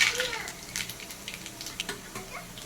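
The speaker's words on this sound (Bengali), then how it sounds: "শুকনো লঙ্কা আর জিরে দিয়ে দিচ্ছি" Dried red chillies and cumin seeds crackle and sizzle in hot oil in a home kitchen, a fairly faint steady hiss with small spitting pops, a voice briefly audible nearby.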